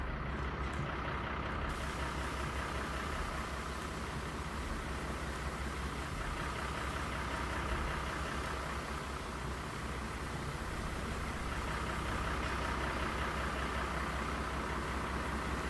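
A new farm tractor engine runs at a steady idle, a continuous low rumble with broadband noise holding level throughout, with no voices.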